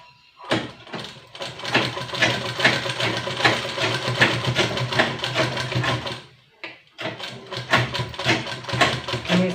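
Sewing machine running steadily while double-stitching the shoulder seams of a baby top, a continuous close rattling hum that pauses briefly midway before starting up again.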